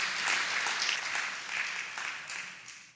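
An audience applauds at a formal award ceremony for business innovations held by a regional chamber of commerce: dense, continuous clapping from a full room, steady and moderately loud throughout.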